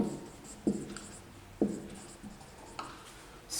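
Marker or chalk taps and scratches across a classroom board during a biology lesson on cell structure, a few sharp strokes spaced apart against a quiet room.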